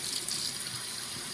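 Canned whole baby clams rinsed under a running kitchen tap, a steady close hiss of flowing water splashing into a sink, continuous and even throughout with no talking.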